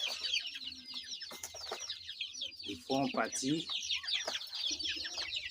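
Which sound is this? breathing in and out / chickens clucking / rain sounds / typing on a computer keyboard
chickens clucking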